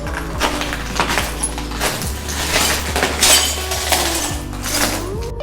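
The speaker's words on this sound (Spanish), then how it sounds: "Aquí hay muchos vidrios en el piso." Broken glass crunches and clinks underfoot on the littered floor of an abandoned building in Estonia, with repeated crisp shattering steps close by and a low steady hum beneath, no talking.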